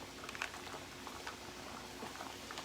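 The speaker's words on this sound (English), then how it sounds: "I'm just trying to get these big old noodles down in the water here" Big lasagna noodles being pushed down into a pot of boiling water, a steady close bubbling and gentle liquid patter with faint clinks, no talk.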